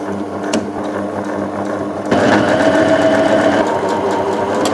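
A sewing machine runs steadily while stitching a seam on a bomber jacket, a close continuous mechanical whir with rapid needle ticking that grows louder and busier about halfway through, with no talking.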